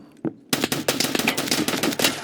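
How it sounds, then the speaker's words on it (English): Grenade launcher firing in the video game Escape from Tarkov, a loud, rapid run of about a dozen sharp, punchy bangs after a brief lead-in, close and dense with little pause between shots. "That's just grenade launcher, boy."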